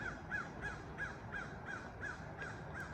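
A crow caws in a repeated steady rhythm, about nine harsh calls evenly spaced, moderately distant over a constant outdoor hiss near a lake and farm fields in the evening.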